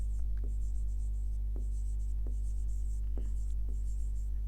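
Marker strokes squeak across a whiteboard as a teacher writes vocabulary in a classroom lesson, several short scratchy strokes spaced irregularly over a steady electrical hum, with no talking.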